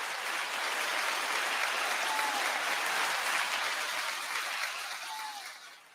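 A studio audience claps steadily for a comedian's entrance on a business talk show, a dense sustained applause that holds level for several seconds before tapering off near the end, with no talking.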